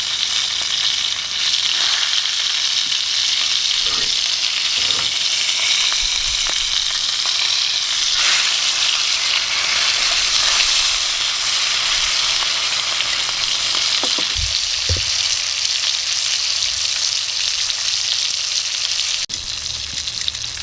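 A New York strip steak sizzles steadily in a hot skillet, a loud continuous frying hiss broken by a few soft clinks, with no one talking.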